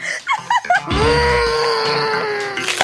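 A person screams loudly in one long, sustained, wavering cry, preceded by a few short vocal bursts, close and alone in a kitchen during a chocolate cooking challenge.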